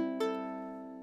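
Ukulele fitted with a different G string, strummed in two quick strokes so a full chord rings and slowly fades, quiet and alone.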